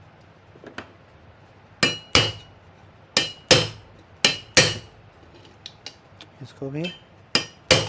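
Sharp metallic hammer taps knock a bush into a motor, about a dozen crisp close strikes in irregular pairs and singles, with brief clinks between them and a short spoken remark.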